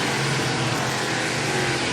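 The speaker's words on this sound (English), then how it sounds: "And the number 23 automobile trying to race his way off of turn 4, track down the top 3." An ARCA Menards Series East race car at Toledo Speedway roars through a turn with a steady, loud, sustained engine drone that fills the track.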